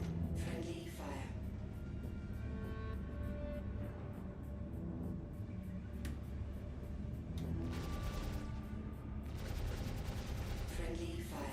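Sustained friendly gunfire in a shooter game, with rapid machine-gun bursts and scattered shots rattling continuously at a steady level, a voice talking over the action.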